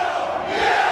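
A wrestling arena crowd at a lucha libre match cheering loudly, a dense sustained roar of many voices that swells slightly toward the end, with no talk over it.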